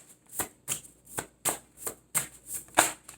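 Tarot cards being shuffled by hand during a reading, about eight crisp riffling bursts in a steady rhythm, close and clear with no voices.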